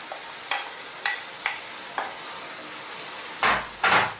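A tomato mixture of tinned plum tomatoes and tomato puree hits a hot pan of spicy Indian fish fry chilli masala, giving a steady sizzle, light stirring scrapes, then two louder hissing bursts near the end.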